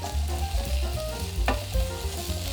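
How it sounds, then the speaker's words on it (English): Carrot slices, parboiled konjac, taro and daikon radish stir-fried in sesame oil in a heated pot over high heat, giving a steady close sizzle broken by scraping stirs, with no talking. "add the sesame oil to a heated pot and stir-fry the ingredients"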